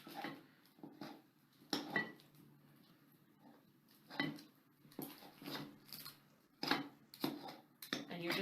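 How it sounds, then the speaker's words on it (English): Knife cutting chilled, firm butter into flour in a bowl, giving scattered soft scraping and tapping strokes at close range, with a voice talking over much of it. "we're going to take our knife and we're going to move along the butter and cut it into the flour"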